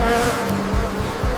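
Buzzing insects as a documentary sound effect, a loud, continuous droning hum close by with wavering pitch and a few swells, with no voices over it.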